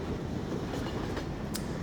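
A model train moving along tracks in Garry's Mod, a steady rolling rumble with faint rhythmic clicks of wheels over rail joints, constant and fairly quiet throughout.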